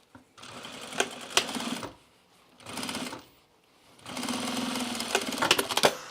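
Sewing machine stitching the fly of a pair of Ames jeans, running in three bursts of rapid, steady stitching with short pauses between, close and clear.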